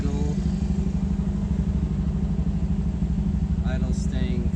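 A 1951 MG TD's engine holds a steady, firm idle around 1500 rpm, a loud, close, even low rumble with a regular throb, and faint clatter and a brief higher chirp near the end.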